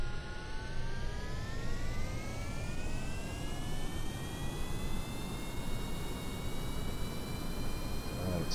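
Rocket engine in Kerbal Space Program throttling up for liftoff, a steady loud roar with rising whine tones climbing gradually throughout, continuous and close.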